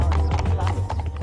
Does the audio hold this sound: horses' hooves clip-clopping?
yes